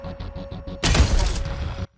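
A single heavy, punchy gun blast from the video game Echo, loud and booming with a trailing rumble that cuts off abruptly, following a few soft rhythmic pulses.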